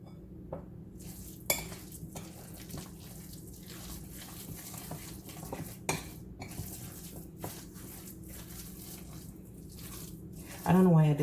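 Spoon stirring and scraping a bowl while several cheeses, including cheddar, are mixed together for stuffed pasta shells, with intermittent clinks and soft mixing sounds in a quiet kitchen.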